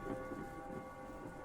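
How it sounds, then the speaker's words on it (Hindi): Thunder rolls low and steady under a wash of rain in a horror story scene, a continuous rumbling storm with no voices. "फिर एक जोरदार बिजली कड़की"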